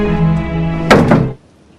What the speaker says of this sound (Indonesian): Joyep yang merasa terpantau langsung menutup pintu.